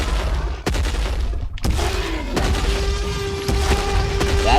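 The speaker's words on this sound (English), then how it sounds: "the noise that the Tyrannosaurus makes whenever he's destroying his foes" Booming, explosive Tyrannosaurus noise from the Minecraft Jurassicraft mod: loud repeated heavy thuds and crashing blasts over a dense rumble, with a sustained tonal cry partway through, no talk.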